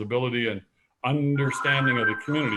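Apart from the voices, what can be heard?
telephone ringing in the background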